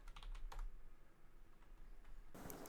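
Keyboard typing during an X-Gen tournament session: a quick run of clicks at the start, a lone tap near the half-second, then a sparse stretch before a dense, louder flurry of keystrokes at the end, close and without talk.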